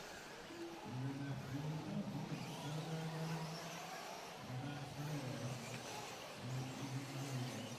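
Several racing trucks circle a dirt race track at the Silver State Championship Sunday night mains, engines droning and rising in repeated revving waves, fairly loud and continuous with crowd-like background noise.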